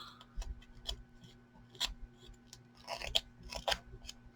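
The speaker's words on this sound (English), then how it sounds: "rough up the edges on this photo" A small, slightly dull hand tool roughing up the edges of a paper photo for an ID tag, giving soft, irregular scratchy scrapes and crackles, close but quiet, repeated in short bursts.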